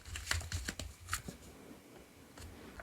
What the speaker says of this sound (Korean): 어떤 인연이신지 조언 카드 뽑아보도록 할게요